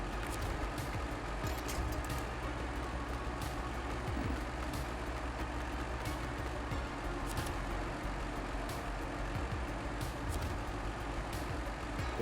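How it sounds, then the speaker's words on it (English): A truck backing up with a trailer in SnowRunner, set in the Yukon: a steady loud engine drone with faint intermittent beeping, continuous for the whole stretch with no talk. "Now let's pull the trailer back a little bit."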